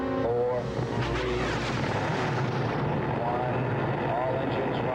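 Rocket engines roar into life at launch, a dense, loud, continuous rumble with broad hiss that swells and holds steady throughout, under a brief voice-over.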